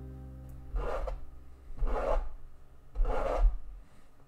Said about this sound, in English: The lake ice was rubbing against itself.